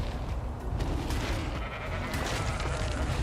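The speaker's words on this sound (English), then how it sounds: "there's a sheep." A sheep bleats in the video game ARK: Survival Evolved Genesis, heard faintly under a dense, steady rumble of game ambience and distant booming.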